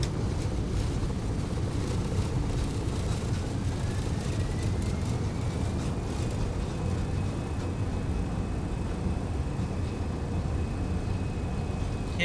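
MD-11 jet engines spooling to takeoff thrust in X-Plane 12, a loud steady broadband roar with a faint rising whine, continuous and close, with no talking.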